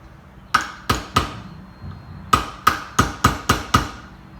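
Hammer striking a steel punch to drift a pistol sight on an HK VP9 slide, nine sharp metallic taps close up, three spaced blows, a pause, then six quicker ones in a row.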